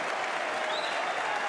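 A snooker crowd at the Masters 2024 quarter-final applauds a pot, steady dense clapping throughout with a faint whistle rising briefly in the middle.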